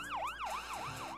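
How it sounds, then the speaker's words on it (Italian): A wailing emergency siren sweeps up and down in a regular cycle, loud and close, with no other sounds around it. "Auto della polizia, ambulanze, camion dei pompieri a sirene spiegate corrono come impazziti."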